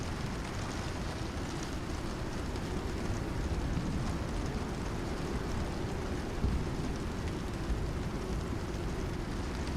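Stormy weather in the survival game Icarus, with heavy rain and wind as a dense, constant wash of noise, moderately loud and unbroken from start to finish.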